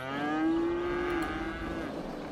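A cow in the farming area of the city-building game Cities: Skylines gives one long, drawn-out moo, loud and steady with a low bellowing tone, with no talking over it.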